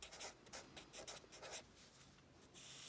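Pen or pencil scratching across paper while jotting down math equations, a quick run of rhythmic strokes and pauses, close and quiet, with no voices.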